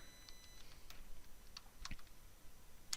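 Security key being entered on a computer keyboard during an online exam application form, a sparse run of soft, separate key clicks heard up close against a quiet room, with no talking.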